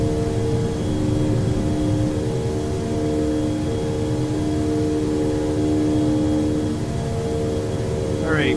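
A DC-8-73F jet makes its takeoff roll in Flight Simulator X: a steady, loud engine roar with a broad rushing hiss and sustained droning tones, continuous throughout and without a break.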